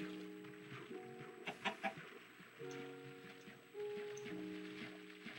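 A chicken clucks in a video game, a few soft, short clucks over a steady background of tonal game music and a faint rain-like hiss, heard without speech.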